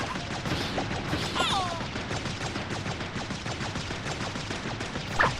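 Weapons fire in the game Tower of Fantasy, rapid repeated shots and impacts rattling steadily throughout, with a few sharper zips and a louder hit near the end, over faint background game sound.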